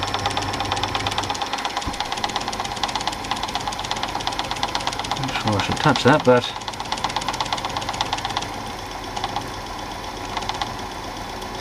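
Clunky, steady mechanical knocking of a Super 8 film projector under repair, a rapid rhythmic clatter running the whole time, close and loud, with someone talking briefly over it.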